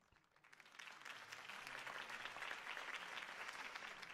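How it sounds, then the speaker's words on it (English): Crowd applause at a campaign rally for Harvey Dent in Batman: The Telltale Series, swelling from a quiet start into steady, dense clapping that holds at a moderate level throughout. "If only Mr. Wayne, my campaign's largest backer, could have heard that applause"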